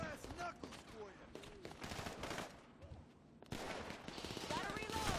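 Video game gunfire in GTA Online: rapid, close bursts of automatic fire and single shots crackle continuously, mixed with shouted voices.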